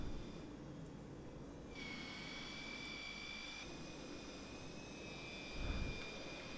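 Inside the cabin of a Dassault Mercure 100 jet airliner in Air Inter livery during descent, in a flight simulator. A steady, muffled engine roar with a faint whining tone fills the space continuously, and a brief thump comes near the end.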